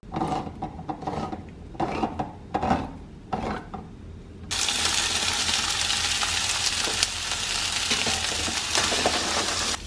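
Chickpeas with olive oil, salt, black pepper and paprika hit a hot pan after a few scraping stirs, then a loud, steady sizzle of sauteing fills the rest.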